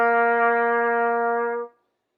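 A trumpet sounds concert B-flat scale note C, played open with no valves pressed, as a single steady sustained tone lasting about a second and a half before cutting off cleanly.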